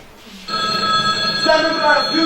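A telephone rings with a steady electronic trill that starts abruptly and keeps going, loud and close, with a voice speaking beneath it.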